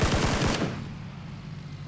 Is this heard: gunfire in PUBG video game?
yes